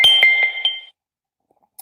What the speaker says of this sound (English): Oh, I just got a notification at 8:15.